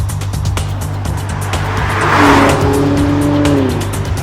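A BMW X1 drives past with a steady engine hum, then a rising whoosh and a drawn-out tyre squeal as it corners, loud and close against constant motor drone.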